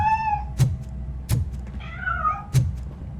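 A cat meows several times in Robocop Rogue City, drawn-out wavering cries at close range, punctuated by three sharp heavy thuds spaced through the sequence.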